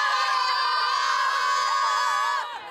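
A crowd lining both banks of the Shing Mun River cheers and shouts loudly at a dragon boat race, a dense sustained roar of voices that eases slightly at the very end.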